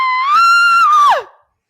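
A voice imitates a woman screaming like bloody murder, a single loud, high, sustained shriek that holds steady, then bends downward and cuts off abruptly.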